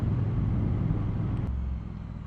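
A 2021 Triumph Bonneville T120 motorcycle engine rumbles loudly up close as the throttle opens on a road by the marina at Glasson Dock, with a low, throbbing drone that eases slightly near the end.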